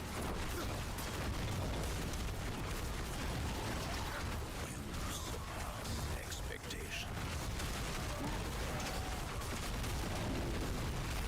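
Dense, continuous game combat noise from Diablo IV as pylons are smashed, with crunching bursts, pops and booms layered thickly throughout, while a voice talks over the action.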